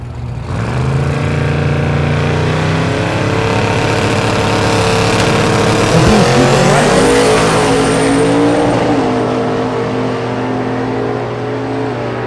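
Drag race car launching down the left lane at Thunder Valley in Noble, Oklahoma: a loud, sustained engine roar that climbs sharply in pitch as it accelerates away, with a tire chirp midway.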